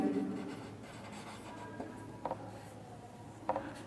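Pen or marker strokes scratch across a writing surface in a classroom lesson, soft short scribbles with a few distinct taps, fairly quiet and close, with no talking.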